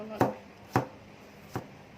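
Three sharp chops of a big kitchen knife through garlic on a board, evenly spaced and close, each a crisp thud with a short ring, in a quiet home kitchen.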